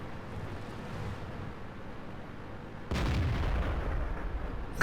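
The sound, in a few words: tank cannon fire in World of Tanks video game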